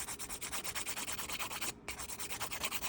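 A nail file rasps rapidly back and forth across a gel nail, removing the excess at the edge in a quick, steady scratching rhythm with one brief pause, close and alone.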